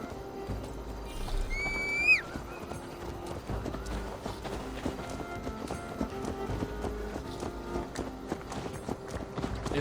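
A ridden horse in Assassin's Creed Valhalla, its hooves clip-clopping in a steady galloping rhythm, with a brief whinny near the start and music and ambience underneath.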